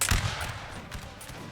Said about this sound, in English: Right, the Spanish open fire.